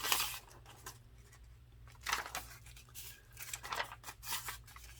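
Scissors snipping neutral paper scraps for a book-page collage, several quiet, crisp cuts in short bursts separated by pauses, close and soft against a low background hum.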